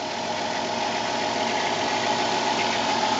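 A 2001-2007 Dodge Caravan V6 runs after fresh spark plugs and wires, a steady, even engine hum with a low mechanical drone, close by and with no talking.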